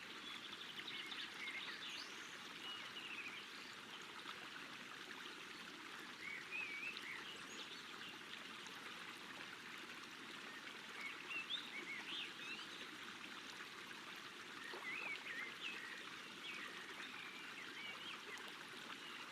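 A river flows steadily at close range, a continuous broadband rush and trickle of cold water, with faint bird calls chirping now and then in the background.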